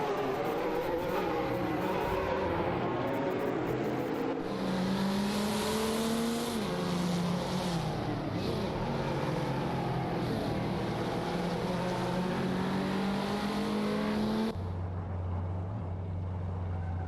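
Racing video game with AI race cars on track: engine notes whine and shift pitch continuously as cars pass and accelerate, loud and sustained, with an abrupt cut to a lower drone near the end.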